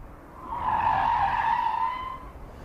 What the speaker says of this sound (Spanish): Uno de los trucos más peliagudos son los giros en J